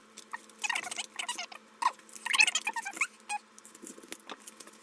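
A small sticker package is opened by hand, giving light crinkly rustles and quick patters in uneven bursts, close and fairly quiet.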